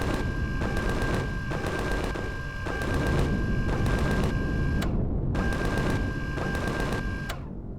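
Gunfire striking a base in Empyrion Galactic Survival, a continuous rapid rattling barrage with a steady tone underneath, loud and close, briefly cutting out before resuming.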